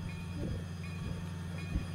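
Train running in a Roblox rail game on a route out of the B&LC Horsethief rail yard, a steady low rumble and hum with faint rhythmic thumps and a brief louder knock near the end, no voices.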